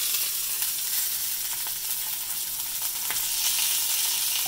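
Salmon fillets sizzle and hiss in a hot frying pan as they are flipped after five minutes skin-side down, a dense steady crackle with a brief clink partway through, close and without talk.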